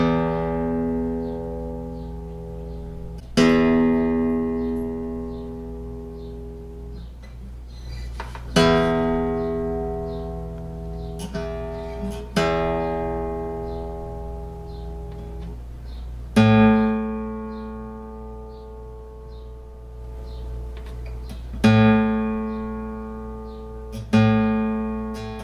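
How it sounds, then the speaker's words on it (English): A guitar's low E string is plucked during tuning with a Korg PitchCrow-G clip-on tuner: about seven clear, ringing notes spaced a few seconds apart, each one sharp at the start and then slowly fading, with no talk. "I start at the low E string when I tune"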